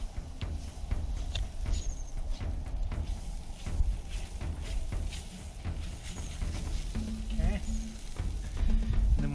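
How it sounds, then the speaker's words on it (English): Butter sizzling on a hot grill grate outdoors, a continuous crackling hiss with scattered sharp pops and spits, moderately loud and close, with faint wind and low outdoor rumble underneath. "I'm just gonna butter the grate real quick."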